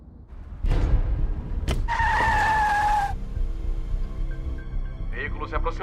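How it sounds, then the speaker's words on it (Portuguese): A car drives in with a loud tire screech partway through, its engine humming steadily nearby before voices speak over the fading motor noise. "Veículo se aproximando."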